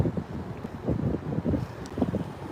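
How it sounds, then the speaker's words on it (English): Gusty wind buffets a microphone outdoors on a hot day on Massachusetts Avenue in Washington, DC, a steady low rumble that swells and dips in waves with no voices. "Oh, and here comes the wind."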